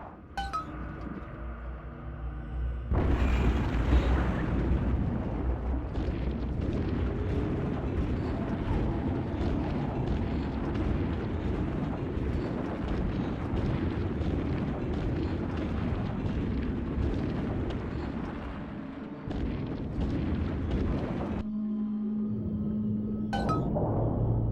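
Bombs exploding in the video game BioShock 2: a sudden loud roaring rumble kicks in and holds as a dense, rattling, debris-filled blast with clinking glass over it for about twenty seconds, then cuts to a quieter hum.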